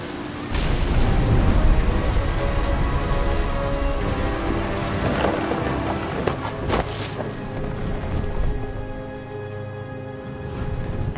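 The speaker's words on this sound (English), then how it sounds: "The thunder sounded much too close and full of angry power." A thunder sound effect with a long low rolling rumble and steady rain-like hiss, loud and sustained with a few sharper cracks partway through, no voices.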